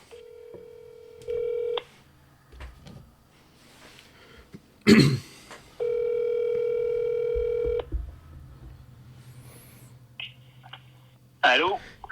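A phone line rings out while a guest is being called live on a French-language motocross podcast. Two steady electronic ring tones sound, a short one and then a longer one, among quiet studio noise and a throat clear.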